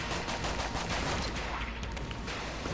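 Rapid gunfire from the basic starter weapon in the video game Enter the Gungeon, a continuous dense crackle of shots under game noise, steady and loud throughout.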